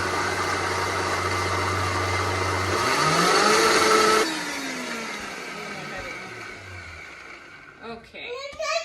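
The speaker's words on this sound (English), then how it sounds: "I'm gonna put on the lid and blend it." A blender runs on its ice cream setting, mixing low carb chocolate mousse: a loud motor drone that surges in pitch partway through, then winds down and stops, leaving a few rattles and clicks at the end.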